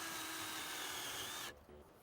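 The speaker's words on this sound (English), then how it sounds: "And drills some holes for these wire cables" A power drill bores holes through plywood on a workbench, a steady high whine with grinding for about a second and a half before cutting off, followed by fainter tool noise.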